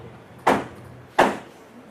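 Two loud knocks on a door at midnight, evenly spaced and close, each a sharp thud with a short fade, over a quiet room.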